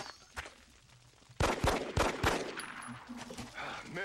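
Video game weapon fire: a few quiet early pops, then a burst of loud sharp shots in quick succession with a lingering echo and a faint voice underneath.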